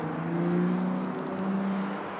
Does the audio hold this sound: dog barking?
no